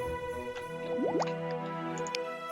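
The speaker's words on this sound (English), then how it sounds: "We shall drop 100 feed into the tank." Fish feed drops into a fish tank in the farming game My Time at Portia, giving two quick rising watery plops over steady background music.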